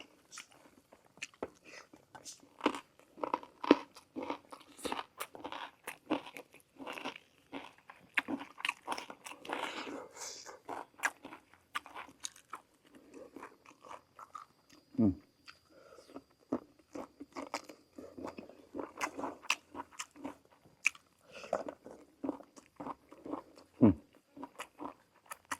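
Crispy fried tilapia is bitten and chewed up close, with repeated crunchy bites and wet mastication continuing steadily alongside intermittent talking.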